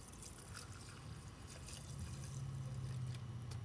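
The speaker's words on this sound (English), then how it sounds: "I got my pickle jar, piston, and I'll just fill it with some gas" Gasoline poured into a pickle jar to soak a seized piston from a Chinese quad, a faint steady trickle that grows slightly fuller toward the end, heard up close with a low background hum.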